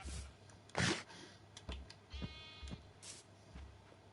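Sheep in the video game Minecraft bleat several times in short, scattered calls alongside soft clicking of a computer keyboard, moderately close with no talking.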